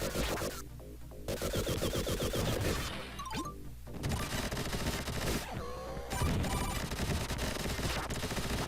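Rapid bursts of gunfire from the video game Vectorman crackle and pop in dense volleys with crashing hits, mixed with game sound effects and background music, with no talking.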